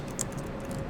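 Quick keystrokes on a computer keyboard, a short burst of close, light clicks over a steady background hum.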